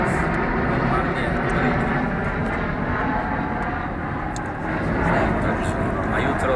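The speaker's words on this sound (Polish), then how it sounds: "Samoloty latają na przykład." Airplanes flying overhead at Grand Teton near Jackson Hole, Wyoming: a steady, loud low roar of aircraft engines that swells slightly and then resumes, with faint voices mixed in.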